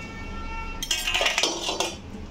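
A lid clatters onto a cooking pot of finished chicken curry spiced with garam masala, a sharp metallic clink followed by a few rattling settling knocks, close and alone.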